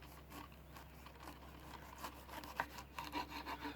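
A knife saws through a pineapple with a few soft, rasping strokes and light fibrous crunches, quiet and close, ending in several small cutting clicks.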